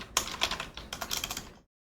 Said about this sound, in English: oh my typing